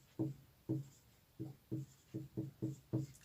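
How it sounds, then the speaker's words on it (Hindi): Marker or pen strokes on a paper chart during a Hindi-language science class, eight short scratchy bursts in an uneven rhythm, close and fairly quiet with no talking. "यहाँ पे हम लोग लिख देंगे खाद्य सामग्री"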